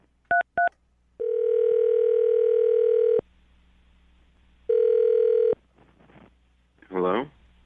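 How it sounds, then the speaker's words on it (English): A landline phone being dialed: two quick touch-tone beeps, then a long steady tone, a pause and a second shorter tone, followed by faint rustling and a brief burst of ringing or voice at the end. "I'm going to dial the phone number right now and get him on the phone"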